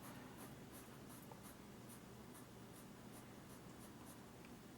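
A pencil scratches across paper in a quiet room, soft repeated strokes in a steady rhythm, faint and close.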